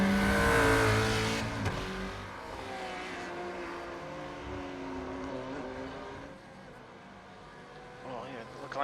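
A GT3 race car, a Ford GT among the field, roars past at speed around the Monza circuit in iRacing, its engine note rising and falling as it fans through, under steady commentary talk.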